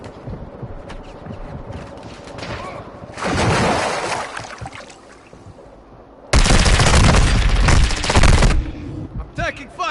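Bursts of video game gunfire, a rapid machine-gun-like fusillade around the middle and a louder sustained barrage near the end, set against quieter rumbling background effects and occasional voices.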